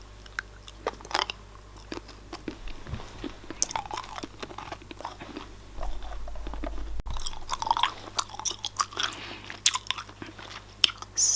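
Soccer-ball gumballs being chewed, with repeated wet, crunchy bites and mouth clicks in an irregular rhythm, close and intimate, soft overall with a few sharper cracks.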